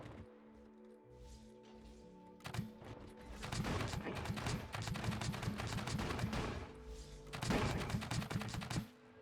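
Potato turrets in the Scrap Mechanic game fire in a dense, loud volley of rapid repeated shots, with rhythmic bursts over a mechanical hum and a second surge near the end.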